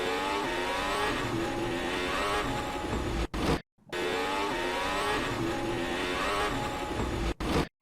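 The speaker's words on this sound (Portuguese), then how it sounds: "Hülkenberg tenta retomar a velocidade 2 vezes, mas o carro distraciona, muita aceleração, muita potência" Hülkenberg's Formula 1 car accelerates hard with too much power, its engine screaming in a high, rising whine with tyre wheelspin. There are two long loud bursts, each ending in a short gap.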